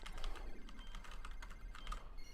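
Rapid, uneven keyboard typing clatters close up while playing Final Fantasy X, with quick bursts of key taps over faint background hum.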